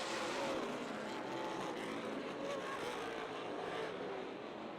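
Super Late Model stock cars race at Rockford Speedway, a steady dense roar of engines with a faint rise and fall as the pack circles, heard from a distance with no break.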